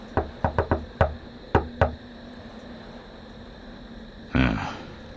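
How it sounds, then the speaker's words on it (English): A patterned knock on a farmhouse cellar door in the game Nocturne: a quick series of five or six sharp raps, a pause, two more, then a duller thud, loud and close with no talk. "They're hiding in the cellar and won't open the door unless they hear a special knock."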